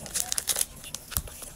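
Plastic packaging of a cheap eyebrow pencil is torn open and crinkled by hand, a series of close, quiet crackles and rustles in short bursts.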